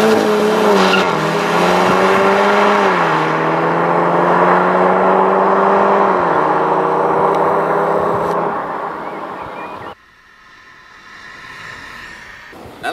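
Cupra 280 and Cupra 290 cars accelerate hard on a test track, the engine note rising and shifting through gears for about eight seconds before dropping away to quiet, with a hint of tire noise.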